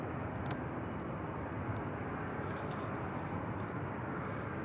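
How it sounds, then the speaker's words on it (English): An Airbus A319's engines at Manchester Airport make a steady, broad rumbling roar that stays constant and moderately loud throughout, without any talking. "I find the 319s quite noisy though."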